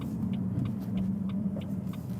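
A car with its exhaust valves opened, being driven, gives a steady low rumbling drone with faint clicking on top and no talking.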